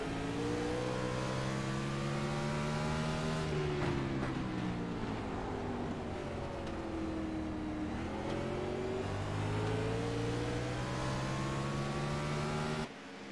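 Race cars battle wheel to wheel on a circuit, engines roaring loudly and continuously, pitch sweeping up and down through gear changes as they run close together, with no talk over them.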